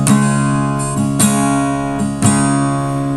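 A single strummed guitar chord fretted with the pinky on the seventh fret of the G string, ringing out clearly and alone, with further soft re-strikes near one, two and a quarter seconds that sustain into a steady decay.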